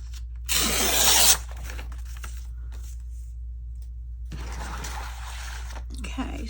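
Paper is torn for a junk journal, one loud ripping burst followed by a quieter, longer tearing stretch later, with a voice speaking faintly in between.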